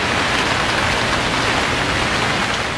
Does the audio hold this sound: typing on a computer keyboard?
no